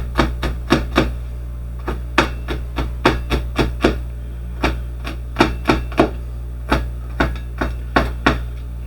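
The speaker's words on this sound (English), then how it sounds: "all I'm doing is just cutting this into a thin strip, then turning it to the side" A knife chops jalapenos into thin strips on a cutting board. The crisp, close taps come in quick uneven bursts with brief pauses, against a low steady hum.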